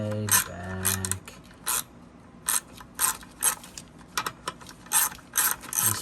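Ratchet wrench clicking while removing rusted bolts from a boat's port riser, short bursts of rapid pawl clicks repeated in a steady rhythm, close and loud, following a brief low engine-like tone at the start.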